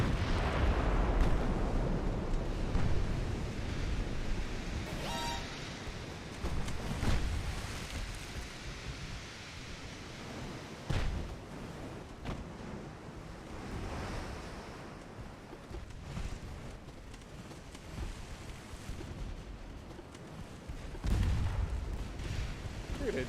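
Naval guns fire in a dreadnought-era warship battle in Ultimate Admiral: Dreadnoughts, heavy booms rolling over a constant sea-like wash, with sharper blasts near the start and toward the end.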